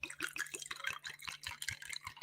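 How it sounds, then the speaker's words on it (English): Spiced gin punch splashes and trickles into a glass in a quick series of close, soft liquid drips and patters, quiet and without any talking. "I just poured that in there."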